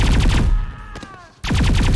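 Turret gunfire in the video game XCOM 2, loud rapid bursts at the start and again at the end with a brief quieter gap between them.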